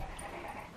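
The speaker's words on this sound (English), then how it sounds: "Let me quiet this dog." A dog named Nancy whimpers briefly during a playdate, a short close whine over a muffled background.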